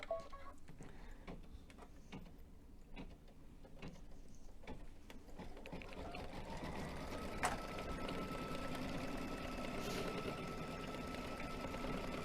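An embroidery machine sews a tack-down stitch in a fast, steady mechanical whir with rhythmic needle ticks and clicks, staying close and constant throughout without any talk.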